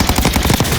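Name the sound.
gunfire from a spraying gun in the video game Warzone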